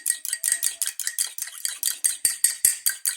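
A fork beating one egg in a bowl for cookie batter: rapid, regular metallic clinks and tapping strokes against the bowl, close and fairly loud, with no talk.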